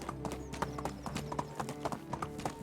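A ridden donkey's hooves clip-clop steadily in the video game Medieval Dynasty, a close, even trotting rhythm over a busy ambient backdrop.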